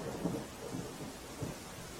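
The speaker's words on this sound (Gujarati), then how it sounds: "અરવલ્લી જિલ્લામાં વહેલી સવારથી જ ધોધમાર વરસાદ વરસી રહ્યો છે" Heavy monsoon rain pours in a dense, continuous hiss in Aravalli district, Gujarat, with a low rumble of thunder underneath.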